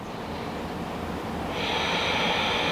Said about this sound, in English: Long, deep exhale out